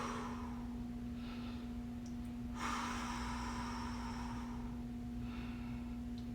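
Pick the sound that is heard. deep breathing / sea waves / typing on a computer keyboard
deep breathing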